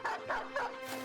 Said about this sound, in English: And we'll release the dog.